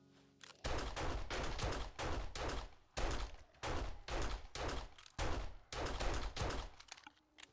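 Gunfire in 7 Days to Die comes as rapid, repeated bursts of automatic shots, each burst lasting about half a second to a second with short pauses between, loud and close with no talk.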